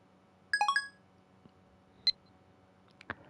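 A quick run of four electronic phone-dialing beeps sounds in Steins;Gate Elite on PS5, followed by a single brighter chirp and a few soft clicks against near silence.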